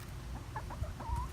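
A backyard chicken gives a few soft, low clucks and a short rising call, near and moderately loud over a faint outdoor background, with nobody talking.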